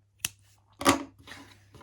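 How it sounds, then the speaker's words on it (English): Scissors cutting crochet yarn, a sharp snip followed by a second louder snip and a soft rustle, close and quiet, with no talk. "Now I'm going to cut my yarn"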